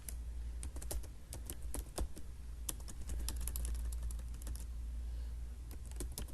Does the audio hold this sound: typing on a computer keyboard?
yes